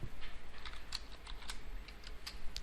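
Quick, light clicking of keys on a computer keyboard while typing a Python command, close and crisp in an irregular run of taps over a low steady room hum.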